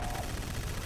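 A gunshot from a weapon in the Fallout game Dead Money, a dense burst of firing that fills the short moment at a steady, fairly loud level.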